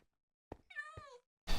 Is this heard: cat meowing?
yes